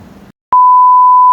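A single steady electronic tone from a phone in a hotel room in Osaka starts abruptly after a brief murmur of voices and holds loud and unbroken to the end.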